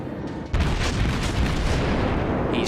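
Heavy naval gunfire and shell impacts from the German battleship Tirpitz during a World of Warships ranked battle. A dense, continuous roar of booms and rumbling blasts fills the clip after a sharp onset, with no talk.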